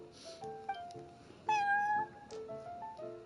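A cat at the Cat's Tail in the video game Genshin Impact gives a run of short, clear meows, several soft calls and one longer, louder mew in the middle, alone against a quiet background.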